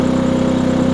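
A Maxpeedingrods MXR6000GT 6000-watt inverter generator running just after a push-button start, a steady close mechanical hum with a fast even pulsing throb and no voices.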